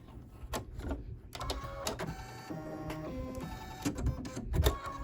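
An embroidery machine sewing a satin stitch around the edge of a coaster, a continuous fast mechanical whirring and ticking at moderate volume, close by with no speech.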